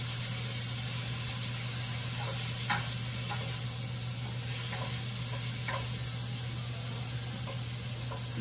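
Food frying in oil in a pot gives a steady, close sizzle and hiss that runs the whole time, with a few faint clicks of stirring and no talking.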